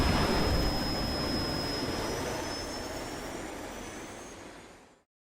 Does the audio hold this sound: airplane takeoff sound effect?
yes